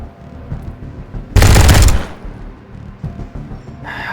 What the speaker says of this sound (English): I don't want to use the LMG on you,